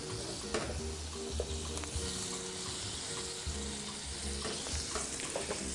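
Bluefish fillet sizzles steadily in a hot pan with white wine and lemon on a stove, a loud continuous frying crackle with occasional pops and stirring scrapes, no voices.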